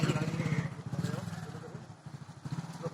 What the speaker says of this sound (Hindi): ये मोटरसाइकिल से ये आदमी जा रहा है और पानी के बीच से निकलने का ये रास्ता है